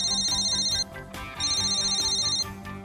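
Mobile phone ringtone sounding after a number is dialed, a bright electronic tone repeating in two bursts with a short gap, over a steady background music bed.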